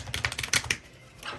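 A deck of cards is shuffled nearby in a quick flurry of crisp, rapid flicking clicks that lasts under a second, then trails off into near silence before a short rustle.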